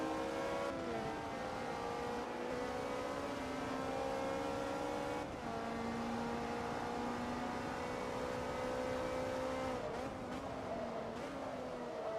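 A race car engine in the Forza Motorsport 2 video game, revving loudly and steadily with pitch drops as it downshifts, several gear changes spread across a continuous high-rpm whine.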